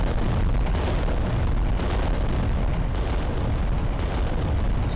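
Heavy Titan weapons firing in the tabletop-style war game Adeptus Titanicus: Dominus, a constant, loud wall of booming blasts and rumbling explosions with no pauses.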